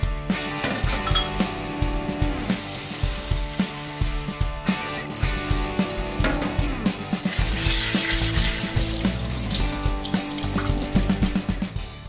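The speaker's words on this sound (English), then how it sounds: "start by rinsing and cooking our pearled barley and quinoa" Pearled barley and quinoa being rinsed under running water, a steady splashing gush with rhythmic grain rattles and clinks against a bowl or strainer, close and fairly loud.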